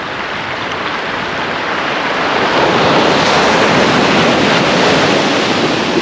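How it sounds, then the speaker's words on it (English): Big sea waves breaking on the shore at Withernsea on England's east coast: a loud, continuous roar of surf that swells stronger partway through, with wind buffeting the microphone and no voices. "Some big waves coming in there."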